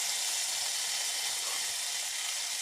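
Onion sizzles in a hot pan while Jamaican ackee and saltfish is being made, giving a steady, close, bright hiss with no talk over it.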